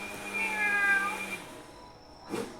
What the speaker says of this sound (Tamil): பூனை சவுண்டு போடுறாங்க கைஸ்